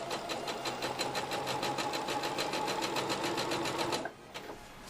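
An embroidery sewing machine stitches in reverse with a fast, even mechanical chatter of repeated needle strokes, running steadily for about four seconds before stopping abruptly, leaving quiet motor hum.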